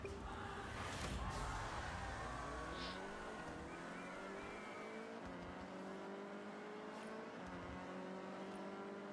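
AI race cars roar through Forza Horizon 6, engine notes climbing and shifting as several cars rev and accelerate close by, loud and continuous.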